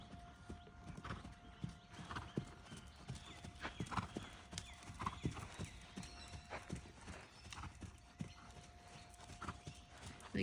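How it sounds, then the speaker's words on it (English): Horse hooves trot in a steady, even rhythm across a training arena, soft and somewhat distant, with a brief whinny partway through. "Let's build that trot up a little bit."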